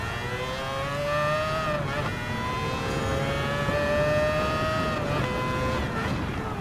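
A Group C race car in Gran Turismo 7 roars along with a high, whining engine note that climbs steadily, dips at each gear change and climbs again, loud and continuous with no voices.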